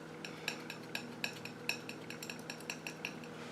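Transparent medium being mixed into paint, a steady run of light, rhythmic clinks and scrapes of a tool against a hard palette or dish, quiet and close with no talk.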